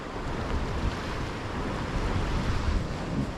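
Steady wind gusting along a winter coastline, a broad continuous roar with surf washing beneath it and buffeting against the microphone, loud and unbroken throughout.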